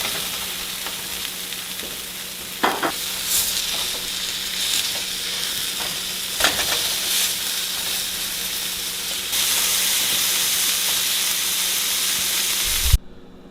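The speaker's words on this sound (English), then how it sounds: "While that one's getting fried, we'll go ahead and make us another one." Venison barbacoa tacos fry in hot oil with a steady, loud sizzle and hiss, broken by occasional pops and clatters nearby. No one talks.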